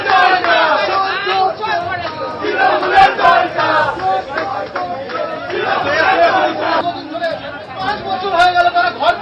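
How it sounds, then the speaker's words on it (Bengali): Protesters surround TMC MLA Kunal Ghosh at night, chanting 'thief' slogans. The crowd keeps up a loud, continuous roar of shouting and babble with rhythmic surges, close and dense throughout. "গতকাল রাতে তাকে ঘিরে বিক্ষোভ দেখানো হলো, চোর স্লোগান দেওয়া হলো।"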